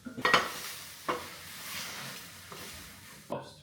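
Scrambled eggs with greens, three eggs plus egg whites, cooking in a frying pan: quiet spatula scrapes and stirs against the pan over a faint, soft sizzle, with a few distinct scraping strokes.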